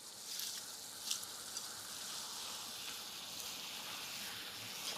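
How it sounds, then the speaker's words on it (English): Spinach sizzles steadily in a hot frying pan, a soft continuous crackle with a few brief pops near the start, no talking over it. "At this point, I'm going to throw in my spinach."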